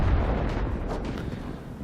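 An artillery shell fired from a Su-122A self-propelled gun in World of Tanks, a heavy booming blast at the start followed by a rumbling decay over almost two seconds.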